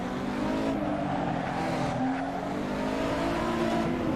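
A Porsche fishtailing in the Assetto Corsa racing game on the Nürburgring, with a steady engine drone and a continuous tire squeal wavering as the car slides, loud and close throughout.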